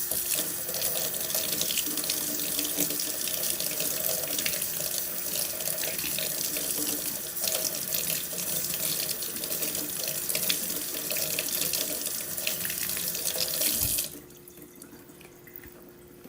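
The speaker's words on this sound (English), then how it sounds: "Trying to wash them really well to get the dirt off" Tap water runs steadily into a sink while carrots are washed under it, a close, continuous splashing stream that stops abruptly near the end, leaving a quiet room.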